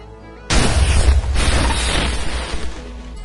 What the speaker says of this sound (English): the first one I'm going to set off is the EMP explosive